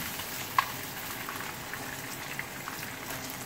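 Rohu fish frying in oil in a pan, a steady soft sizzle and bubbling with one small sharp pop near the start, close and fairly quiet, no talking.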